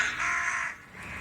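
A single harsh crow caw rings out close and clear, a rasping call lasting under a second, followed by a fainter trailing note.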